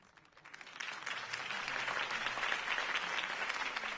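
Crowd applause from an audience at a political campaign rally in a Batman video game, rising quickly and holding as dense steady clapping, with no speech over it.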